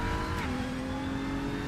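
Race car engine in a DTM racing video game, a steady loud drone with a rising-falling pitch line, joined by a brief tire-squeal flavor early on, continuous throughout with no voices.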